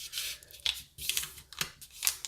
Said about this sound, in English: Now you're going to take and you're going to fold the whole thing in half